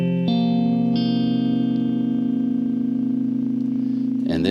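Electric-toned guitar with a partial capo clamping four strings at the eighth fret in standard tuning, strummed once and left ringing as a sustained chord with a second accent, then a brief scrape of strings at the end.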